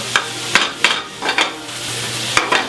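Pork Wellington stuffing being dried out in a hot pan, stirred with a utensil in repeated scraping strokes, roughly six clattering sweeps over a low sizzle, close and without voices.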